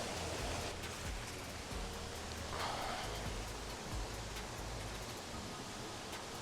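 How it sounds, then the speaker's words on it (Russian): A small waterfall in the Bavarian Forest rushes in a steady, dense broadband roar that stays close and even throughout, with no voices over the water. "Эти звуки водопадика, они вдохновляют"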